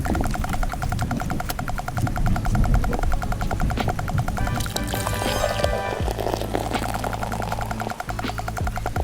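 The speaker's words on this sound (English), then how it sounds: "That's what I call an aggressive pour." Beer poured hard and fast, a loud gushing, bubbling stream of liquid filling a glass up close, set against a busy background of other sounds.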